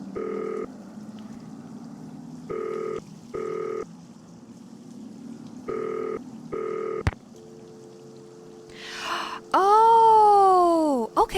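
Telephone keypad tones dial out in a series of short evenly spaced beeps within the Nancy Drew: Danger By Design game, followed by a click, a steady tone and a rising, wavering electronic ring.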